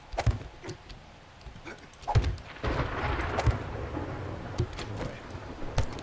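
A thunderstorm in the video game 7 Days to Die rumbles with low rolling thunder and rain hiss, punctuated by sharper cracks and thumps, moderately loud throughout.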